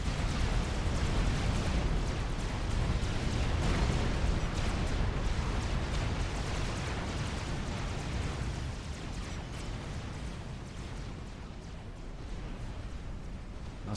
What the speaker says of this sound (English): You shouldn't be able to hear those cruise-type missiles above everything else on the map when you're zoomed out.